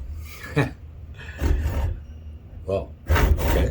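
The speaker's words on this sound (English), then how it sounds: "So I'm gonna try this saw." A hand saw cuts into a wooden knife handle for an Opinel No. 9 blade puukko, giving three or four rasping bursts of strokes separated by short pauses, close and fairly loud, with brief speech between them.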